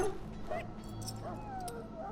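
Ill dog in Dragon Age Origins whimpering and yipping softly through a short stretch, thin whines rising over a low steady game background.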